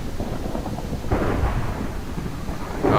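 Thunder rolls through a Minecraft thunderstorm, a continuous low rumble that swells louder past the first second and surges again at the end, with rain hiss underneath and no talking.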